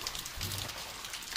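Rain falls steadily in Vilcabamba during the rainy season, a constant hiss of drops pattering on surfaces, moderately close and even in level, with no voices.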